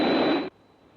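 A broadband aircraft roar holds loud and steady for half a second, then cuts off abruptly, leaving only a faint hum.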